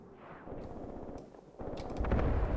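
Gunfire in Graviteam Tactics during a WWII-style firefight at Peleshi: a rolling stream of rapid shots and bursts that builds up and gets heavier, ending in a loud, dense volley with deep booms.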